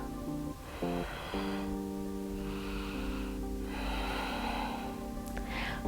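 During a yoga exercise, a person exhales in several long, audible breaths, close to the microphone, set over a steady tonal hum of background music.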